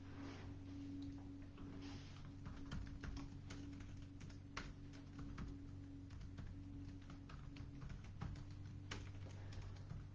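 Rapid, uneven clicking of fingers typing on a computer keyboard runs continuously, faint and close, with a steady low hum underneath and no talking.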